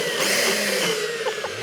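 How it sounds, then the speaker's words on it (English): A kitchen blender whirs after being switched on, its motor pitch sweeping and wavering over under two seconds and ending with a few rising whines. "New ways of operating blenders in your kitchen"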